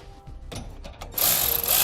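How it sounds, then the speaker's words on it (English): Wrench or power tool tightening bolts and nylon lock nuts on Air Lift LoadLifter 7500 XL helper spring brackets, a few short clicks and bursts followed by a loud continuous whirring run, close by. "Now we'll tighten down our hardware."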